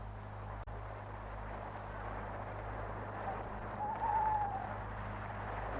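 A single owl hoots faintly in a spooky village churchyard at night, one soft drawn-out call rising from a quiet, steady hiss of background ambience, with nobody speaking.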